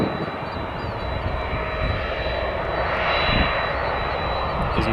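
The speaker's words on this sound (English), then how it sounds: "he's shut down his right engine, just taxiing with the left engine" A single-engine-running airliner taxiing at O'Hare Airport in the evening, one engine shut down, gives a steady, loud jet-engine roar and whine that swells slightly near the middle and holds continuously without pause.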